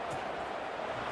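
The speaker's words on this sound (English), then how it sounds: "this crowd is buzzing after that last score" A college football stadium crowd during a UTEP Miners game, a steady broad murmur of thousands of fans buzzing continuously after a score, dense and sustained with no single voice standing out.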